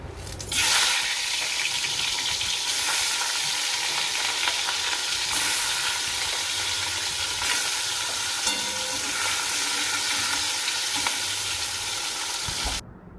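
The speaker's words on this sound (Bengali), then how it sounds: "এদিকে মাছেও নুন হলুদ মাখিয়ে রেখেছি, মাছটা ভাজতে দিই" Fish rubbed with salt and turmeric frying in a pan, a loud continuous sizzle that starts abruptly and holds steady for about twelve seconds before cutting off.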